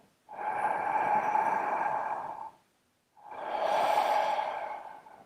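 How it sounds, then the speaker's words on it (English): Two slow, long breaths during a relaxation breathing exercise, each a drawn-out airy rush of about two seconds separated by a brief silence, close and clear. "just keep the breath connected"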